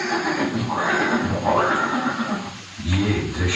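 A horse neighs in a scene of Maharana Pratap's horse Chetak, loud close whinnies with rising and falling pitch, two long calls followed by a shorter one.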